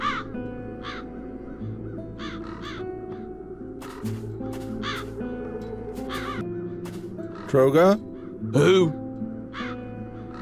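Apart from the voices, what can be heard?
crows cawing in video game The Dark Eye: Chains of Satinav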